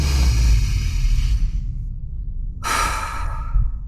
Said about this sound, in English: So take a deep breath with me.